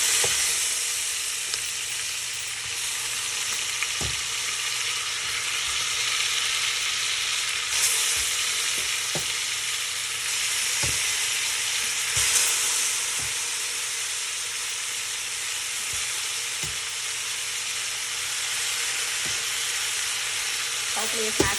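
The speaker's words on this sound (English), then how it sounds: "Now we're going to brown those turkey necks." Turkey necks browning in a pot, a continuous loud sizzle and hiss with occasional sharp clicks and stirring knocks, no talk.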